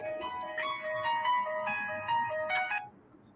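A mobile phone ringtone plays a bright, looping electronic melody of several rising and falling notes, clear and close, lasting about three seconds before cutting off, with no talking.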